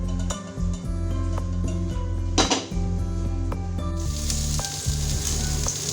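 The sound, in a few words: oil heating and sizzling in a pan for chicken seekh kebabs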